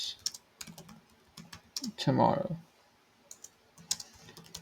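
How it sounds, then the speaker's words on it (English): Quick bursts of keystrokes tap out a prompt for ChatGPT on a computer keyboard, the clicks close and crisp around a brief spoken word in the middle. "So when you are actually typing in your prompt"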